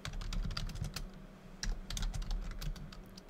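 Rapid typing on a computer keyboard while diary entries from 1903 are read aloud, a close, continuous patter of key clicks with uneven bursts and no voices during the run.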